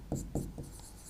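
A pen or chalk scratches across a board during a history lecture, three short quick strokes followed by fainter scraping, close and alone.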